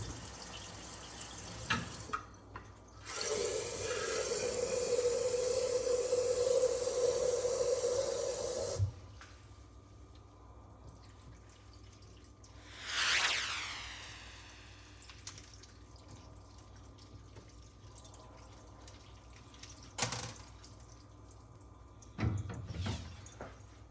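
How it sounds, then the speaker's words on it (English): Nutrient solution is poured from a container onto a plant growing in semi-hydroponic LECA, giving a steady close pour and trickle for about six seconds, then quiet with a few later splashes and clinks. "I'm just going to water the plant with nutrient solution."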